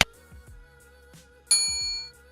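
A bright notification bell rings out twice, a short metallic ding followed by a louder, sustained chime that lingers before fading, with soft clicks in between and no talk.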